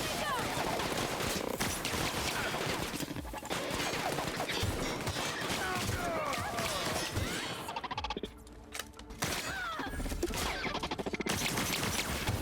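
Gunfire in the video game The Outer Worlds, with dense rapid bursts of shots and impacts that continue almost nonstop, and a brief lull in the middle before the shooting resumes.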